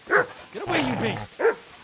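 Dog barking in the medieval game Kingdom Come: Deliverance: two short, sharp close barks at the start and end, with a stretch of voiced talk and whining sounds between them.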